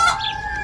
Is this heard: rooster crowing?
yes